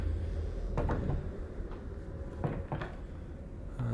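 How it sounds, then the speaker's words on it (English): Drawers being pulled open and pushed shut in the video game Half-Life: Alyx, several short wooden slides and knocks spread across a few seconds, no voices. "Spend a lot of your time looking through drawers."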